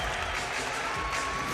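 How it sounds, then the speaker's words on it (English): A home crowd at a Marquette women's basketball game against Creighton in the Al McGuire Center roars with steady applause and cheering, a dense, unbroken wash of clapping and voices filling the arena. "The crowd coming to life inside the Al McGuire Center"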